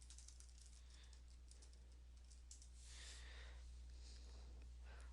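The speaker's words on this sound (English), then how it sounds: "I'm just going to type in Joint Ventures" Fingers tap on a computer keyboard in quick, light bursts of clicks, faint and close over a low steady hum, with a denser flurry of keystrokes partway through.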